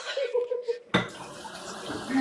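A kitchen sink faucet turned on abruptly after a brief voice, water then running in a steady hiss and splash, close by.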